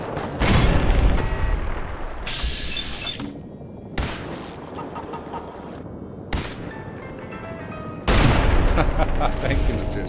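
Rapid bursts of turret gunfire in Fallout 4 with the Sim Settlements 2 mod, loud volleys near the start and end with quieter stretches and sharp blasts between, mixed with game noise and a voice talking.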